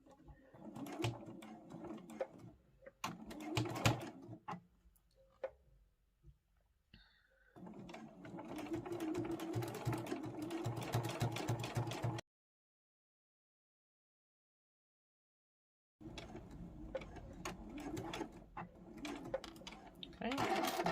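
Sewing machine running in bursts while stitching a large crossbody mobile phone pouch with a slightly longer stitch length, close and steady, stopping and restarting with a long silent pause between runs and quiet talk in the gaps.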